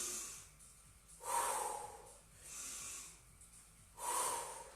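Heavy breathing during squats in a live workout class: three or four loud, close, rhythmic breaths with slow pauses between, snorting through the nose and gasping at each rise, no talking.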